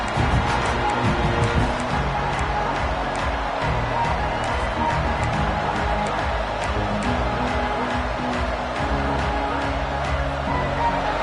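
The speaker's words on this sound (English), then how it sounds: "This crowd trying to show them what it's going to be like all day in this house." Roaring football stadium crowd at a season opener keeps up a loud, continuous wash of cheering and noise, dense and unbroken throughout.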